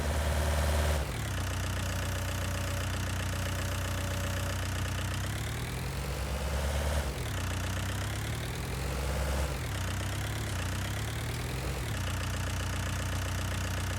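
Tractor engine idling in Farming Simulator 19, a steady low rumble with a few revs swelling and falling back, loud and close with no talk.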